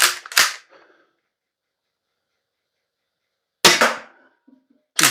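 An Umarex T4E HDX .68 caliber paintball shotgun fires a quick pair of sharp, loud pops, followed after a pause of about three seconds by another similar double shot and the start of a third, with nothing else between.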